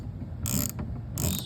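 A power driver whirs in two short bursts, sinking a screw coated in marine adhesive into a 12-foot jon boat, each burst close with a ratcheting mechanical buzz.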